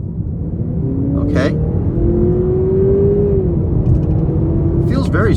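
A 2023 Honda Accord Sport accelerates with a steady in-cabin engine drone and rising whine under road rumble, while a voice speaks briefly over it.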